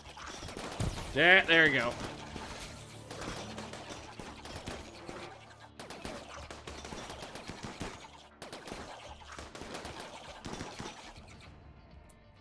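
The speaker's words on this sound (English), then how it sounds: "Let's just grab the guys with the guns and move them up a little. They start shooting." Colonists fire guns in RimWorld: scattered sharp gunshots crack in quick bursts across the scene, under a voice talking.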